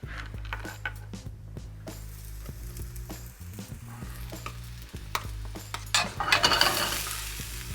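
Snapper pieces cooking at a low simmer in a pan, with a soft steady bubbling sizzle and scattered clinks and scrapes of utensils on cookware nearby, ending in a brief louder burst of frying.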